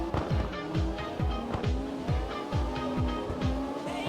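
A car drifts in CarX Drift Racing Online, with steady tire squeal over a revving engine and a rapid, regular pattern of engine pulses and downshifts throughout, loud and with no talking.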